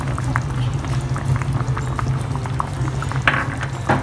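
A pot of fish stew with pomfret bubbles steadily at a simmer, a dense continuous boil with small pops and gurgles standing out over a low hum, close and fairly loud.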